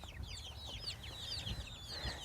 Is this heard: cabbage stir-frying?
no